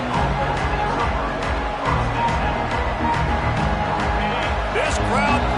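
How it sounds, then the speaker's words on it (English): A stadium crowd at an Arizona State vs Oklahoma college football game roars steadily as a dense wall of cheering and noise, with a commentator's voice running over it. "This crowd bringing the energy and noise early."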